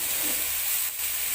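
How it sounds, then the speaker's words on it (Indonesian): Blended spice paste sautéing in a pan gives a steady, soft hiss and sizzle that holds evenly throughout, close and fairly quiet. "Selanjutnya tumis bumbu hingga benar-benar matang supaya enggak langu"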